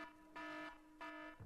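A shopping-TV under £10 alarm sound effect on a gem channel: two sustained electronic buzzer-like tones, each about a third of a second, separated by a short gap, fairly faint and alone.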